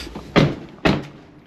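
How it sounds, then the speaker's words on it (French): Two solid thuds about half a second apart as a Tesla car door is pushed shut, close and fairly loud, each a short low bump with a brief tail, no talking. "je vais déjà fermer la porte pour voir comment il ouvre la porte"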